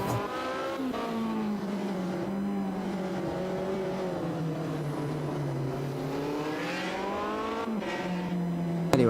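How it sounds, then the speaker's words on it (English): An Alpine A110 rally car climbs a mountain hill-climb course, its engine revving loudly and steadily, pitch rising and falling through gear changes and bends, heard close and continuous without talking. "A real rally classic, this. The Alpine A110"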